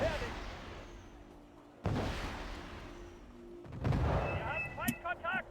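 Artillery shells from Wargame: Red Dragon boom in three heavy, rumbling blasts spaced a couple of seconds apart, each decaying into a low roar, with brief faint voices near the end.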